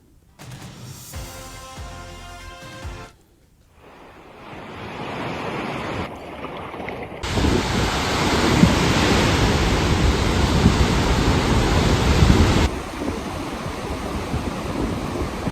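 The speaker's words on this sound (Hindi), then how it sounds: "चिनाब दरिया का पानी काफी तेजी से बढ़ रहा है" The Chenab river, rising fast, rushes with a loud, broad roar of churning water; the sound shifts between segments, quieter at first, then a dense, steady torrent close by for most of the stretch, with no voices.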